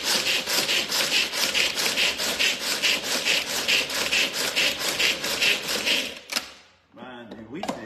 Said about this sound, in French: Donc là, on a nos pistaches concassées